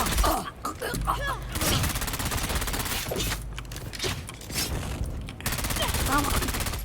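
Sustained rapid gunfire in the video game Dune Awakening, dense automatic bursts over a continuous rumbling bed of game sound, with brief gaps between volleys and faint voice-like game audio mixed in.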